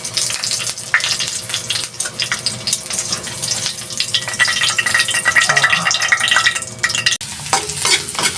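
Squid adobo ingredients with tofu sizzle and get stirred in a hot pan, steady frying crackle with scraping stirs and a brief watery splash, close and fairly loud, no talk.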